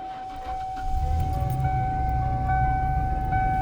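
A van engine after belt and tensioner replacement turns over and settles into a quiet, even idle with a steady hum and a thin whine from the smog pump, no voices.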